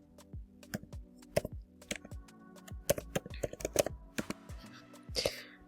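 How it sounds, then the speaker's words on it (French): Someone types on a computer keyboard with quick, uneven clusters of sharp key clicks, close and fairly quiet, with brief pauses between bursts and a faint breathy sound near the end. "je vais juste taper Work in Luxembourg"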